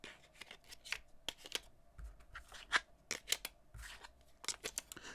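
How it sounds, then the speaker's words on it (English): Plastic credit cards scrape and click as they slide into the back card slot of a VRS Design wallet case on a Galaxy S25 Plus, a series of quiet, close, irregular rasps and taps. "So now let's see how many cards we can fit into the back of this case."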